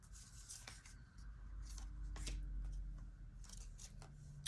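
Tarot cards shuffled and drawn by hand, a series of soft papery riffles and slides with sharper flicks, close and quiet with no talking.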